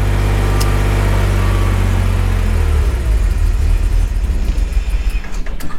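A BMW 328Ci E46 engine idles loud and close, a steady low rumble that settles into a rougher, uneven idle partway through.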